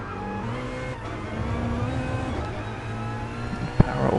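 GT2 race car in GT Sport on the Laguna Seca or Sardegna circuit, engine droning steadily at high revs with harmonic tones shifting as it slows, a sharp transient near the end, no talk.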